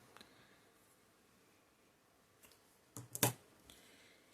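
Scissors snip through yarn thread at close range: a few faint, sharp clicks followed by a brief cluster of crisp cuts, with a quiet background and no talking.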